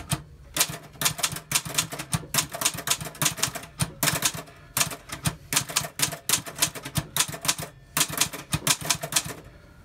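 Rapid bursts of typing on a manual typewriter with a freshly inked ribbon, loud and close, the keystrokes coming in clustered runs broken by short pauses, with no voices.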